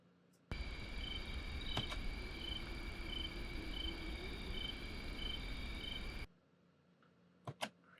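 Crickets and other insects chirp in a steady, dense overnight chorus with a faint repeating pulse, lasting several seconds before cutting off, leaving quiet background and a couple of brief clicks.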